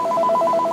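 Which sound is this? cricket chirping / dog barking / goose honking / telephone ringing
telephone ringing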